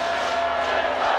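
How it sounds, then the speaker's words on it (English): A large crowd at a rugby union match between Canada and Japan at McLean Park, Napier, New Zealand, makes a dense, steady roar with no distinct voices across the whole moment. "Large, vibrant crowd here at McLean Park, enthralled in this game"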